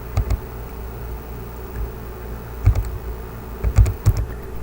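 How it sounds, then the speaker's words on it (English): Buttons tapped on a calculator to enter a number, a few light clicks at the start and a quicker burst near the end, close and quiet over a faint steady background hum. "if we type that into our calculator for a decimal approximation"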